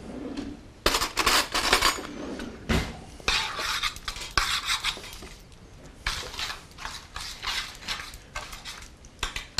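Salt and pepper being stirred into bowls of breading for chicken and eggplant parmesan, with busy clinking and scraping of utensils against bowls, close and fairly loud, no talking.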